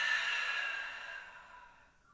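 A long, soft breath out during a Pilates exercise, airy and close, fading gradually over about two seconds with no talking.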